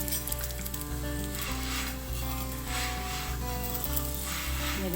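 Besan paratha frying in a little oil on a non-stick tawa, a continuous soft sizzle and hiss heard up close with faint clinks, no talking.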